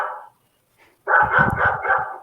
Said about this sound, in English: A flurry of yipping barks erupted from below in the livery